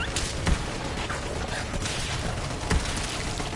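Rapid automatic gunfire from an infinite-ammo gun in Borderlands 3, a dense sustained burst of shots with heavier booming hits near the start and toward the end, loud and continuous throughout.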